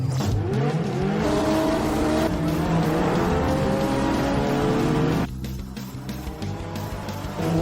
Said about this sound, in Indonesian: Ketiga mobil langsung start dengan cepat.